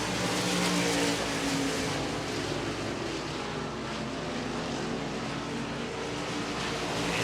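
IMCA stock cars race at Hancock County Speedway on a dirt oval at night, their engines making a loud, dense, continuous roar that holds steady as the field passes close by.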